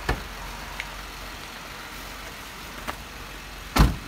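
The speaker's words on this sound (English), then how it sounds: "This 6-speed Rubicon Wrangler has 410 gear, so it crawls really slow." A 6-speed Jeep Wrangler Rubicon with 4.10 gears crawling slowly along a trail, its engine a steady low drone with a few brief knocks and clunks, one louder thump near the end.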